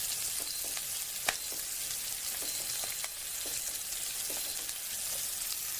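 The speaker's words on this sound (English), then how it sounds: "let me just mix this up really well and break up the onions" Onions and garlic sautéing at about 325 degrees in a Cuisinart MSC-800 Cook Central 7-quart multi-cooker, with a continuous close sizzle and scattered sharp clicks and scrapes as the pieces are stirred, no voices.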